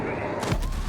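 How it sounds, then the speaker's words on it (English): A frag grenade detonates in Rainbow Six Siege, a short loud burst of explosive noise that starts abruptly and fills the moment, close and harsh. "Doesn't take too much when a frag grenade lands at your feet"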